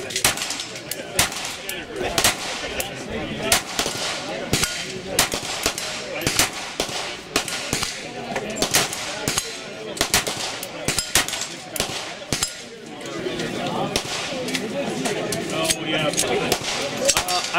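Gunfire at an outdoor shooting range, including shots from a polymer striker-fired pistol, sharp reports cracking out in irregular bursts, some close and loud, others farther off, with faint voices in between.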